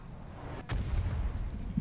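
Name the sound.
thumper cannon firing in a BattleTech video game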